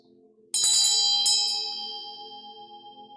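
A bell cast from seven blended metals is struck twice in quick succession, ringing clear and bright, then sustaining a long, slowly fading shimmering tone in a quiet room.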